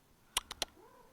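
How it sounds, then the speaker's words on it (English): Pet cat Dougie gives three short meows close to the microphone, loud and clipped, evenly spaced within half a second against a quiet room. "Oh, my cat's just turned up, by the way."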